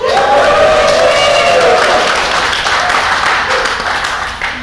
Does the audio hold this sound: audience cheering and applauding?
yes